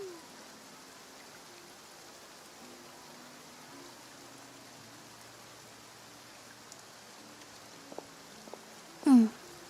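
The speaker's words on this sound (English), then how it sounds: "Looks like rain." Rain falls in the Fontaine region of Genshin Impact, a soft, even hiss of drops that stays quiet and steady, broken by a few faint clicks and a brief louder voice near the end.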